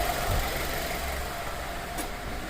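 A 2003 Honda Element with a 2.4L engine, AWD, idles steadily after warming up, a constant low rumble with a faint hum and no voices, holding even for the whole stretch.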